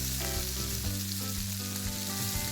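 Mackerel fillets fry in a pan for a Goan fish fry, giving a steady, close, continuous sizzle and crackle with a low hum underneath and no talking.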